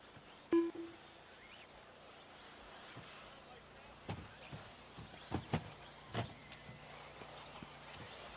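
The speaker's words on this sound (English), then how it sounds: "And we are off and running here in race 17. Two-wheel drive mod buggy." Two-wheel drive mod RC buggies racing on a track, faint buzzing motors in the background with scattered sharp clacks and thumps, crowd and announcer voices under the noise.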